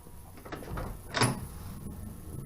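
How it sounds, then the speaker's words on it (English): A 1969 Pontiac Firebird passenger door swings shut with a single soft, muffled thud, preceded by faint shuffling, heard close and fairly quiet with no talk. "Passenger door closes just as good."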